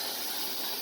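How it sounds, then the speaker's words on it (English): Steam hisses from the handle of a pressure canner lid in a steady, close, broadband rush with no pauses. "You see how there's steam coming out of this handle?"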